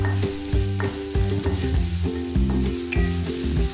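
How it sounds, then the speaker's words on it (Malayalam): Paste for chicken cheese balls sautés in a pan with a constant close sizzle. A spatula is stirred through it in rhythmic scraping strokes with no talk. "ഇനി ഇത് നന്നായിട്ട് ഇതിൻ്റെ പച്ചമണം മാറുന്ന വരെ നന്നായിട്ടൊന്ന് വഴറ്റി കൊടുക്കുക."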